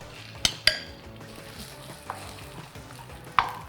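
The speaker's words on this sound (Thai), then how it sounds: "ทำผัดซีอิ๊วไฟแรงตลอดทางเราจะเอาหมูลงก่อน" Pork stir-frying over high heat in a small wok for pad see ew, a steady crackling sizzle punctuated by a few sharp metal clanks of a spatula scraping and tapping the pan, close up and without talk.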